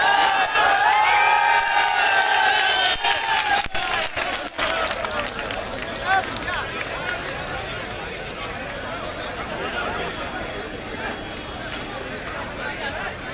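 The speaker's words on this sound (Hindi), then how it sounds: "आप सबसे निवेदन है कि ताली बजाकर माननीय पायलट जी और राजा साहब का स्वागत" A large crowd at a public rally claps and cheers to welcome Pilot and Raja Sahab, a dense, loud wash of applause and shouting that slowly thins out.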